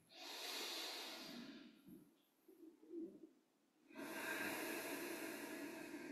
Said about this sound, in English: So the sound of the breath changes. Breathing more directly into the sinuses.